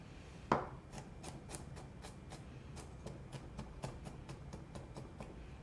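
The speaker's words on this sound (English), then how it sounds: "Then we'll just chop that up." Knife chopping vegetables on a cutting board in a home kitchen while making tomato basil soup, a steady series of crisp, close, evenly spaced taps.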